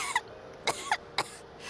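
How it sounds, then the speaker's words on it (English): Several short coughs from a character in the video game Genshin Impact, spaced irregularly across under two seconds, fairly quiet and without any talking. "How long have you had that cough"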